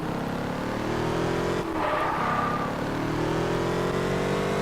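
A car driving in the racing game Test Drive Unlimited, its engine droning steadily and loudly throughout with a brief dip and a rising rev partway through, no voices.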